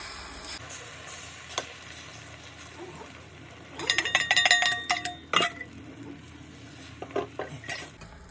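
An egg mixture with turmeric, chili powder and green chilies is poured into a hot pan for a bread omelette, a brief burst of sizzling and clinking pan sounds over a faint frying hiss.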